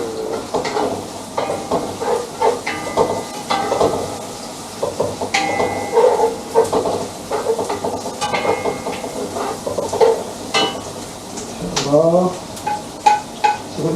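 Onions go into a pan for fish cooked in taucu and fry with a soft sizzle, while a utensil scrapes and clinks repeatedly against the pan, close and in irregular bursts, with occasional faint speech.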